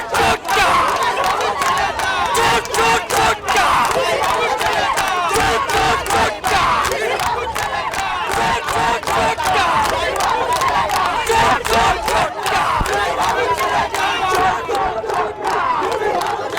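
A large crowd at a West Bengal election rally chants slogans loudly and continuously in rhythmic bursts, dense and close, with shouting voices filling the entire stretch.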